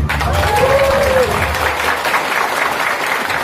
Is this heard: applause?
yes